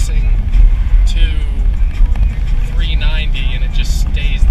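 A Corvette C6 Z06 engine revving hard while losing power around 4,500 RPM, a loud sustained rumbling drone with a rising higher-pitched whine partway through, heard from inside the car under someone talking.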